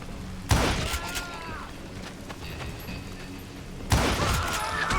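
Gunfire in the Western shooter Call of Juarez Gunslinger: two sharp, loud blasts a few seconds apart, each ringing out briefly over a quieter background.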